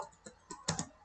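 Code is typed on a computer keyboard, a few quiet, close keystrokes spaced out before a quicker pair of taps, with no voice.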